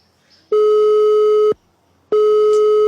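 A telephone busy tone on an unanswered call: two loud, steady electronic beeps, each about a second long, separated by a short silence, with no voices.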